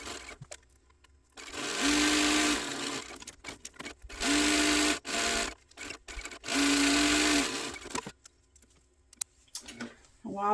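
A sewing machine stitches a tote bag at a long stitch length in three steady, loud runs of a few seconds each, separated by quieter pauses with faint handling clicks.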